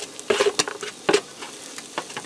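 Diced onion dropped into hot olive oil in a pressure cooker pot, giving soft crackles and spattering bursts up close, irregular and moderately loud, with no voices.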